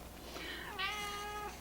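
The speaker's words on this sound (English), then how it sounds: "you're going to hear him meow" A pet cat gives a single drawn-out meow, close and clear, rising then holding a steady tone for about a second.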